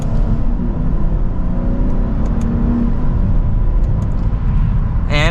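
A 2024 Lexus IS 350 F Sport pulls away from second gear in mild acceleration, its engine droning loud and steady with a rising whir inside the cabin and no speech.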